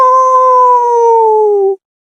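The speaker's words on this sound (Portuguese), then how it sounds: "o uivo de um cão atravessou o ar" A single long dog howl as an audiobook sound effect, loud and clear, a steady tone that slowly slides downward before cutting off abruptly.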